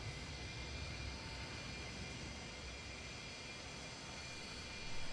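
Jet engines of an MD-83 in a flight simulator game run down to a steady, even roar with a broad hiss, holding constant throughout with a slight swell at the end.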